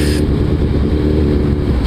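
Suzuki Hayabusa engine running through gear changes at low speed, a loud, steady, low rumble with a short change in tone at the start as a gear shifts.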